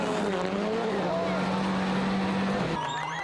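Sébastien Loeb's rally car launches at full throttle on a 2005 Mexico rally stage, engine roaring loud and close with rising revs and a gear change, under a commentator's voice.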